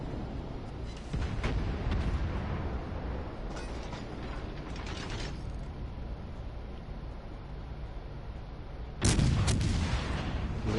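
Gunfire from a naval battle video game on PS4, a sustained mechanical rumble broken by sharp cracking shots, with a louder burst of fire near the end.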